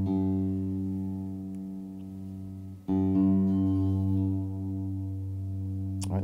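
A bass guitar's G string plucked and left ringing during tuning, its sustained tone re-struck once midway and adjusted slightly in pitch, heard alone and close.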